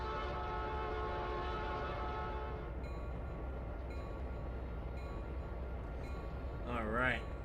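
In the Trainz Simulator 3 video game, a Conrail locomotive gives a short horn blast near the end, over a steady rumbling engine and an ongoing voice.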